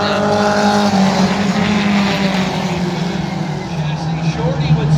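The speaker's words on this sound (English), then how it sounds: "Racing up front here with the 4-cylinder pros" Four-cylinder race cars roar around a short speedway oval, a continuous droning engine note that rises and falls in pitch as the pack passes, with an announcer calling the race over it.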